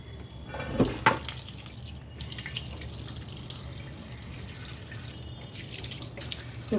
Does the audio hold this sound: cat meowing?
no